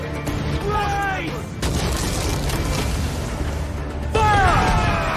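Ship cannon fire in Assassin's Creed 4 Black Flag, several loud booming volleys with cracking impacts spread across the clip, while crew voices shout over the noise.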